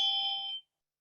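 A ritual wisdom bell, held with a dorje, gives a single clear bright ring that sustains evenly for about half a second and then cuts off abruptly into silence.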